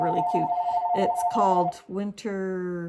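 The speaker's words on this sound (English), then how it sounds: "Sorry for the phone ringing." Steady electronic telephone ring tone sounding under a woman's speech, repeating in short bursts and lingering in the background as she talks.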